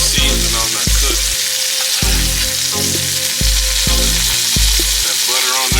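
Black Angus London broil sears in butter in a hot pan, a loud steady sizzle with repeated low thumps and clanks of the pan or utensil as the steak tips are moved.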